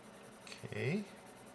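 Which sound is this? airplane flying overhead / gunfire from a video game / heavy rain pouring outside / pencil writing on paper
pencil writing on paper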